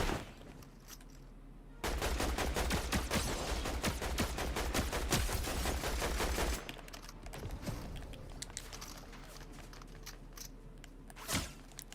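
Rapid bursts of automatic gunfire from a ranked online shooter game, loud and dense for several seconds, then fading to scattered distant shots and a final sharp crack.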